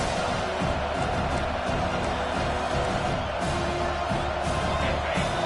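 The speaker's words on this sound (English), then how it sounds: "Here comes his home crowd as the defense tries to get off the field on 3rd down." A home crowd at a football game roars steadily as the defense tries to get off the field on third down, a dense, continuous wash of cheering and whoops heard from a distance with no pauses.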